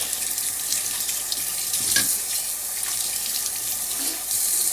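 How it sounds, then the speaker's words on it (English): Tap water runs steadily into a jug being filled for cooking rice, a continuous hissing splash with slight changes in pitch as the level rises, close and alone. "I'm just going to get my jug because I need to fill this up with the right amount of water"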